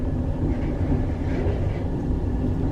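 A basic parking garage elevator scraping in its shaft: a steady, fairly loud grinding rumble with a faint rhythmic rattle that runs the whole time, and no voices.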